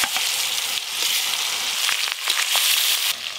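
Bones of a 3.5 kg bhetki fish hit very hot oil for a kata chorchori, giving a loud, bright, continuous sizzle and crackle with small bursts as pieces go in, no voices.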